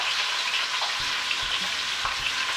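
Thinly sliced onions, a full pound of them, fry in a hot pan with a steady, loud broadband sizzle, joined by a few soft thumps and stirring bumps as they settle.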